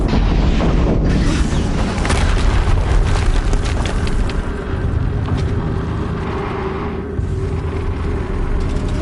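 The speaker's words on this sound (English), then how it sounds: "Another explosion." Loud, sustained rumbling blast from an explosion in the video game Horizon Zero Dawn, a dense roar that stays strong for the whole stretch with crackling bursts layered on top and only a brief dip near the start.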